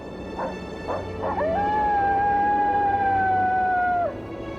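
In Yellowstone's wilderness a coyote gives a few short barking yips, then one long, loud, steady howl that holds for several seconds before dropping off sharply.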